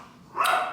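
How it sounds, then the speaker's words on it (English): A pet dog named Bentley gives a single short bark, heard at moderate distance inside a home, with no talking. "I'm going to go see what Bentley's barking at."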